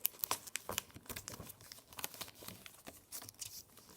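Paper being folded and creased into an origami ninja star, close up: a steady run of crinkling, rustling and sharp crease snaps with no talking.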